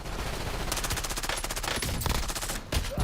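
Sustained rapid automatic gunfire in a video game battle, loud and dense for the whole stretch, with bursts overlapping and a brief lull near the end before firing resumes.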